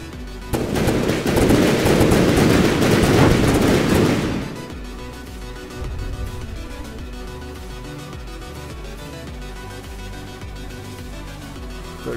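Dense rapid gunfire and cannon shots in the naval combat game From the Depths, a loud continuous barrage for about four seconds that drops to scattered quieter firing and rumble.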